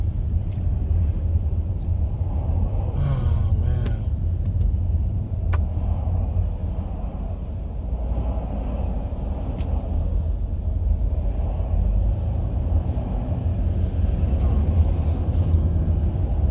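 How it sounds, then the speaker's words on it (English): Steady low engine and road rumble from inside a car stuck in heavy traffic, continuous throughout, with a brief spoken exclamation over it. "I'm in heavy ass traffic right now."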